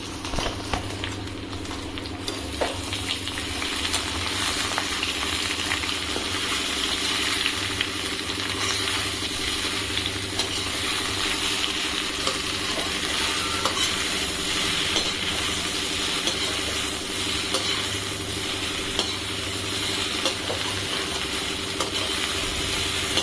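Food frying in pungent hot oil over a low gas flame, a long steady sizzling hiss with scattered faint pops and a low hum underneath, no voices.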